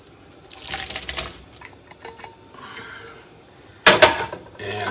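Cooked shrimp tipped out of a metal pot into a bowl, with clattering and scraping metal and a wet slide of food, ending in a sharp loud clank near the end, close up and without talk.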